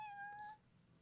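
A cat character in the video game Genshin Impact gives a short, high, tonal meow that lasts about half a second and is heard alone against a quiet game background.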